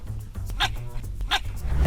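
A dog barks twice, about three-quarters of a second apart, sharp and fairly close over a low steady background rumble.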